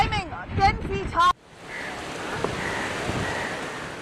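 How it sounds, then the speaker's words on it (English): Cyclone Yaas waves surging ashore in Odisha, a steady roar of surf and wind-blown noise that follows a brief spoken line at the start and continues with occasional splashes. "let's see the waves coming almost till where we are, which is almost climbing 10 feet high"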